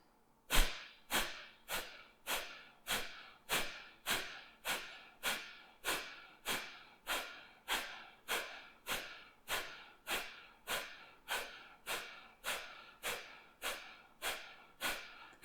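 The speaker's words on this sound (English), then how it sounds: "Full breath in. Full breath out." Forceful yoga breathing with full breaths in and out, a steady series of about twenty sharp rhythmic exhalations spaced under a second apart, close and clear with no talking.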